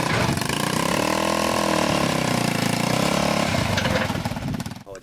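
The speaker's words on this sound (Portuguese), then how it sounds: "É movido a gasolina e junta o motor de moto com câmbio de Fusca." A homemade gasoline-powered tractor, built from a motorcycle engine and a Volkswagen Beetle gearbox, runs loud and close with a steady throbbing drone that slightly shifts pitch before dropping away at the end.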